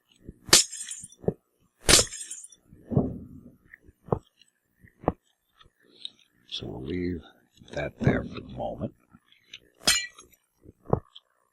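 Glass blocks in Minecraft break with a string of sharp, crisp shattering cracks spaced unevenly across several seconds, close and clear, while someone talks between and around them.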